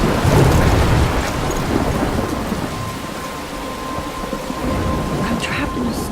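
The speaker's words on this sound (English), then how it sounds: "I'm trapped in a storm?" Heavy rain pours steadily in a Life is Strange thunderstorm, with a loud rolling rumble of thunder at the start fading into constant dense rainfall, no voices.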